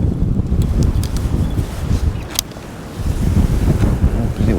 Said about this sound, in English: Oh, the wind's strong.